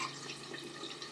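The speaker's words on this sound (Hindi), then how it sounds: "और इसमें पानी डाल के" Water poured into a mix of chili powder, coriander powder, cumin powder and black salt to make a masala paste, a brief steady splashing trickle, close and alone.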